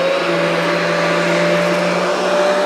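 Riccar vacuum cleaner motor running steadily and loudly, a constant whirring drone with a tonal whine throughout.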